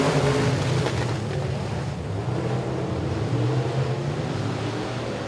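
Dirt track race cars roaring through a heat race at Boothill Speedway, a loud continuous engine rumble and whoosh of the pack running steadily without a break.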